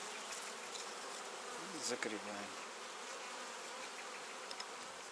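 Honeybees buzz steadily around the apiary hives, a dense continuous hum close by, with a brief louder pass as one flies near, and someone briefly speaks over it.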